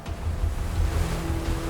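A US Navy warship's 100,000-horsepower water-jet propulsion churning a turbulent wake: a steady low rushing roar of foaming water mixed with wind buffeting, continuous and fairly loud.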